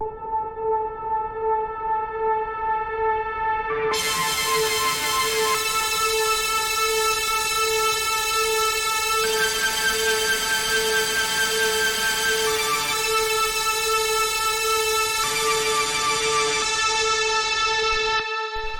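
A sustained synth pad from a cosmic techno break drones on the note A, bright and harmonically rich, its upper tones swelling and shifting in sections while the root holds steady throughout.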